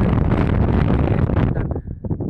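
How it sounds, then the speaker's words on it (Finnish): Strong wind blasts across the microphone on a northern Norway ice-fishing trip, a loud rumbling roar that gusts steadily, then drops into choppier buffets near the end. "Tuuli on niin voimakasta, että sulatetaan."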